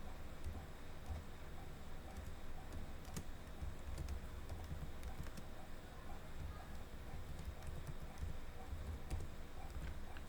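Steady, fast keystrokes rattle on a computer keyboard as a title is typed into a WordPress FAQ section, continuous and fairly close across the whole stretch with a low background hum.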